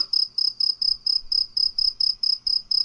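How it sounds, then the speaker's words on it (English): A cricket or katydid chirps in a steady, evenly spaced series of about a dozen bright, loud pulses, close by and alone with no talk. "It says cricket sounds."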